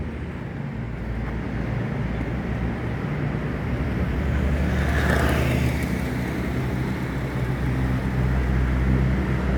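A Sinarjaya Jetbus 5 coach idles at the Alang-alang bus terminal with a steady, loud diesel rumble and broadband roar that swells slightly midway, continuous throughout, with no voices.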